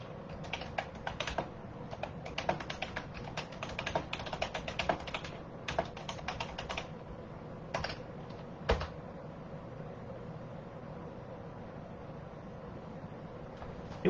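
Someone typing on a computer keyboard in bursts of close, rapid clicking keystrokes, with a pause in the middle and a few isolated taps toward the end, no talking.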